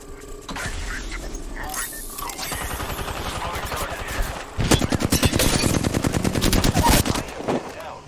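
Rapid automatic gunfire bursts from a squad firing in the Apex Legends video game, loud and dense, growing heavier and more sustained in the second half, with game effects mixed in.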